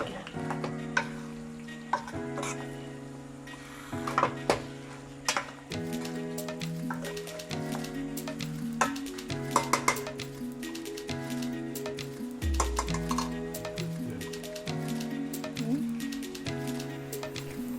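Chicken curry being stirred in a pan, with repeated spoon scrapes and knocks over a low simmering sizzle and steady background music.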